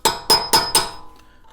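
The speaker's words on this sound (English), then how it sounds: "I'll take a little cold chisel and a hammer, and I will just go in and just open these up just a little bit" Four sharp metallic strikes of a hammer on a cold chisel against a wheel bearing hub from a Mazda CX-9 or Ford Edge, evenly spaced and close, each ringing briefly before a quiet tail.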